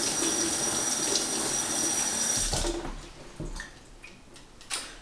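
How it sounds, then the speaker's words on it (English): Tap water runs steadily into a sink as a funnel is rinsed, a broad continuous splash for about two and a half seconds, then the flow stops, leaving scattered drips and small clatters. "So I'll just give it a good little rinse in the sink."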